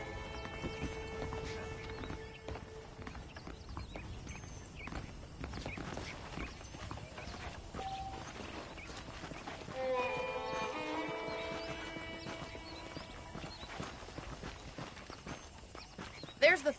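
Steady clip-clop of a horse's hooves walking in the Red Dead Redemption video game, with an occasional snort, under a voice talking with background music.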